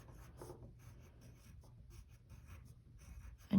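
A crayon scratches steadily across paper while a snowflake is drawn, a soft continuous rubbing texture that stays quiet and close, ending in a sudden louder thump.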